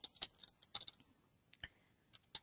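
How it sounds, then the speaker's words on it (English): Close-up typing on a computer keyboard: a loose, irregular run of sharp, crisp key clicks with short pauses between them, fairly quiet against a calm room. "And I'm going to type in"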